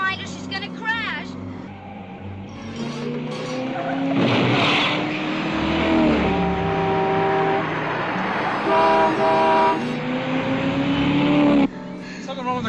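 A car drives hard with rising engine tones, tire squeals and a horn blaring across the whole stretch, loud and close, while people talk over it in a 1978 film scene.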